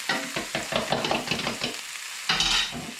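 A seasoned egg mixture is poured over lobster chunks, onions, mushrooms and peppers in a hot pan, giving a close, busy sizzle with stirring and scraping clatter that rises, pauses briefly, then flares up again, with no talking.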